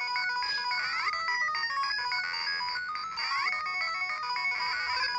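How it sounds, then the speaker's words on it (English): A Game Boy game plays its bright, chiptune extra-life jingle through a Handy Boy magnifier-and-speaker accessory. Rapid beeping notes rise and repeat in a loud, continuous melody lasting several seconds, with no talking. "Boom. Extra life."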